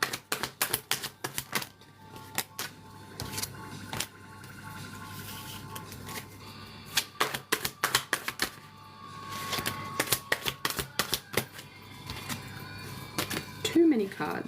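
Tarot cards being shuffled by hand, a run of soft irregular riffling slaps and flutters, close and fairly loud, with a thick clump dropping near the end; a voice talks quietly in places.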